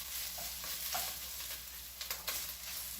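Ground beef for bolognese browns in a pan with a soft, steady sizzle, fairly quiet, broken by a few scraping stirs and clinks near the end.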